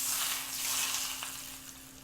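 Food for a roast beef dinner sizzling and frying steadily in a pan as it is stirred, a continuous close hiss with no talking.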